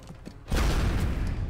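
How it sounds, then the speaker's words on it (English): An alloy cannon fires in XCOM: Enemy Within, a sudden loud blast that swells into a sustained roaring burst after a few faint mechanical clicks. "So he's taking an alloy cannon to the face"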